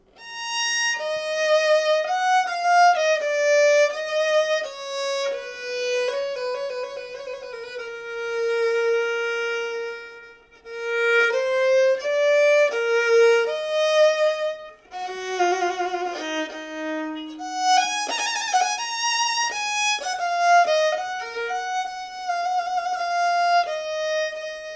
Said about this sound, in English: people got the six-string pardessus with this extra G string up on top